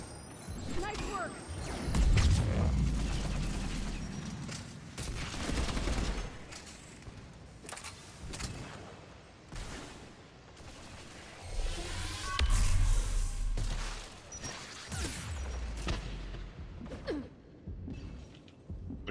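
Claymore shotgun blasts in Mass Effect 3 multiplayer combat, heavy booming shots repeating amid dense battle noise and other gunfire, with voices talking over the action.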